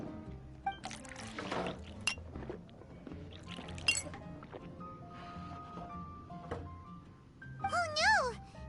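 Juice is poured into a glass in a video game, with light clinks of glassware and a trickling pour under game music and speech, ending in a brief rising liquid gurgle.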